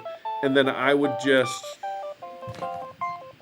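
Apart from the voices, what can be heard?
telephone keypad tones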